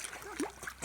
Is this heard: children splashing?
yes